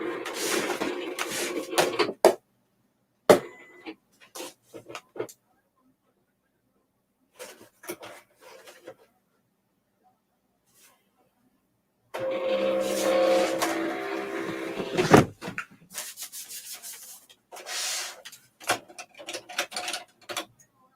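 An electronic cutting machine works through paper in bursts of whirring and rattling carriage movement, separated by silent pauses and sparse clicks, with a longer busy stretch near the end.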